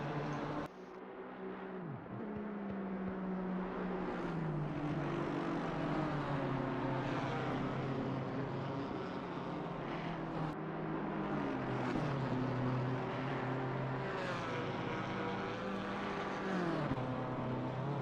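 Racing engines from a GT3 Porsche and other cars lapping the Nordschleife in a sim racing endurance game, a continuous loud roar with rising and falling pitch through gear changes, overlapping cars close together, no voices.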